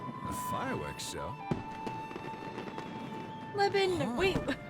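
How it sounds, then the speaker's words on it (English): Fireworks show in the Genshin Impact video game, with bursts and crackles popping over a busy background of game music and tones, louder toward the end. "A fireworks show?"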